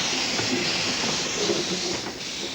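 A Fairlie narrow-gauge steam locomotive running, a steady dense roar of hissing steam and rolling rail noise with faint rhythmic clatter, loud and continuous throughout.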